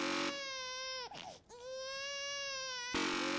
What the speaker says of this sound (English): As much as I'm already tired of hearing the child crying